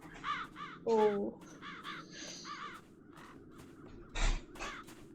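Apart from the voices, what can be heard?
crows cawing in the video game Chains of Satinav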